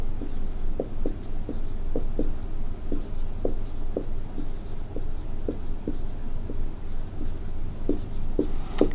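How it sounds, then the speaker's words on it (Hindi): Chalk or marker writing an example on a classroom board, a steady series of short taps and strokes repeating through the stretch, close and clear with no talk over it. "जैसे एक एग्जांपल मैं लिख रहा हूं यहां पे"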